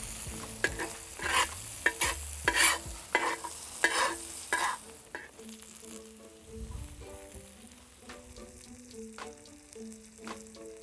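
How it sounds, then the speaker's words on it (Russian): Mushrooms tossed into a pan with already-browned onions sizzle steadily, with bursts of louder clatter and stirring in the first half, then a softer, even frying hiss while music plays over it. "Первые 2 минуты грибы не трогаем, также даем им хорошенько зажариться."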